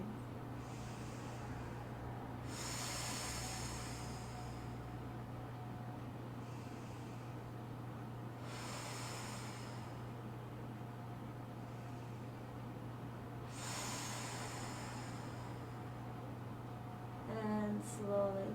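Slow, audible breathing during a floor stretching exercise: three long hissing exhales spaced evenly over a steady low hum, each lasting a couple of seconds, with faint rustling at the end.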